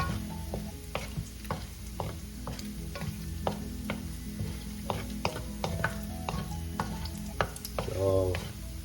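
Pork fat renders and fries in a pan while cabbage is being sautéed, giving a steady low sizzle with frequent sharp pops and crackles and the occasional scrape of stirring.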